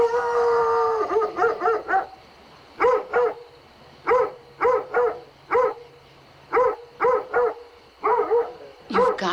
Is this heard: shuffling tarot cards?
no